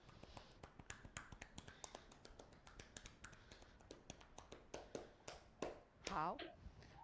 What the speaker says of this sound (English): So when we're testing, I will be knocking and I will be judging it based on what sound it's making